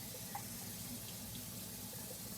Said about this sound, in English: we're going to water this orchid very thoroughly